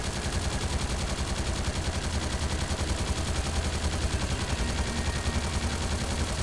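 Sustained, dense automatic gunfire from the video game Trails Through Daybreak, a loud continuous barrage of rapid shots filling the whole stretch without pause.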